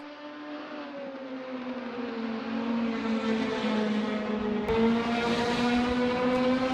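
Caterham 420R race cars at Cadwell Park snarl past on track, one steady, strongly pitched engine note climbing through the revs and growing louder, with a brief click partway through.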